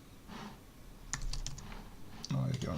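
A few bursts of key taps on a computer keyboard as a filename is typed, short clustered clicks close by with quiet room noise between them and no clear talk.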